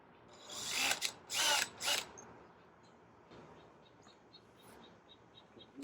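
A power drill or driver whirs in two or three short bursts as screws go into greenhouse pipe, followed by quieter faint ticking and chirps.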